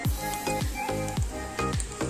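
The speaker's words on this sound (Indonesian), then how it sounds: "Kita goreng secukupnya." Sambal ingredients (chilies, shallots, garlic, tomatoes and shrimp paste) frying in hot oil give a steady close sizzle, broken by about four sharp clatters from a utensil stirring the pan.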